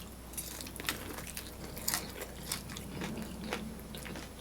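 A crisp, well-done brunch item with a crunchy outside and juicy inside is bitten into and chewed, giving faint scattered crunches and wet chewing noises close to the mic.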